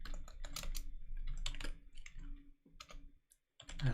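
Rapid, uneven clatter of a computer keyboard being typed on during live coding of a kernel, close and dry, bursts of keystrokes with a short pause near the end.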